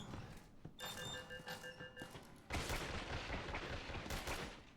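Enemy gunfire in the horror video game Resident Evil 7, with sharp bursts repeating over a dense, busy game soundscape that gets louder and fuller partway through.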